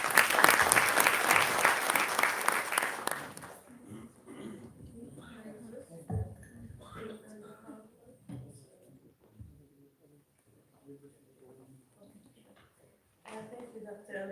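A conference audience applauds to welcome a speaker to a panel, with loud sustained clapping for about three seconds that then stops abruptly, followed by someone speaking with occasional bumps and shuffles.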